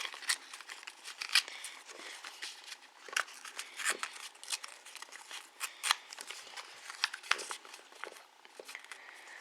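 Thin origami paper being torn by hand, a quick series of sharp, close papery rips and crinkles in irregular bursts, fairly quiet with no talk.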